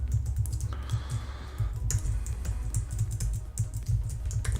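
Steady typing on a computer keyboard while writing code, with rapid close key clicks running throughout and a brief pause partway, no voices.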